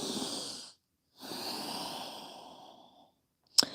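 Slow nasal breaths during a yoga pose, two long airy exhalations with a pause between them, close and soft, followed by a brief sharp sniff.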